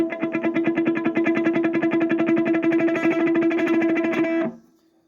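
Fast, even alternate picking on the open high E string of an electric guitar, a rapid tremolo of repeated notes through a distorted tone, ending with an abrupt stop after about four seconds.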